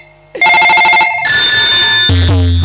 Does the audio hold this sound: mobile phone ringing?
yes